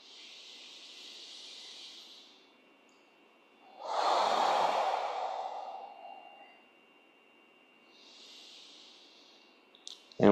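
Slow, soft breathing during a pelvic floor turtle-breath exercise: a long airy exhale rises in the middle, framed by fainter breaths before and after, close and quiet with no talking.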